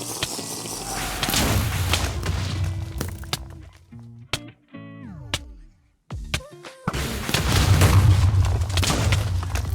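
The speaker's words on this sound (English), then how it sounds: "It explodes and summons 3 Wither skeletons" A Wither boss blows up in Minecraft Bedrock Edition, a loud, dense roar of booms and thuds that cuts to a brief stretch of stepped game tones before heavy rumbling returns.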